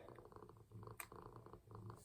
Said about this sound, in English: if you hear a faint vibrating sound. Here's my cat.